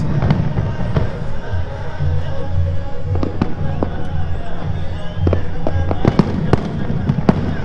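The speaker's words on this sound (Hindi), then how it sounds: "बहुत प्यारा फायर वर्क, अभी कुछ मिनट और जारी रहेगा ये" Fireworks burst repeatedly at a Bahrain National Day celebration, sharp cracks and booms scattered over a constant crowd murmur with voices in the background.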